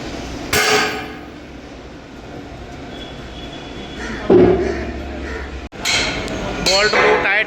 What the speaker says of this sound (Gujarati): એક ભાઈ ઉપર બેઠો છે ઠોકવા માટે.